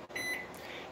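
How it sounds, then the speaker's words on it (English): A kitchen timer gives a short, faint electronic beep as its button is pressed, a single brief tone in a quiet home kitchen. "Kitchen timer."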